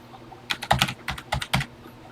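Keys clack on a TI-99/4A computer keyboard while a BASIC program is typed in, a quick close burst of about a dozen uneven keystrokes with no voices.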